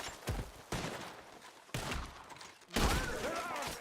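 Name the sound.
gunfire in shootout, from video game Red Dead Redemption 2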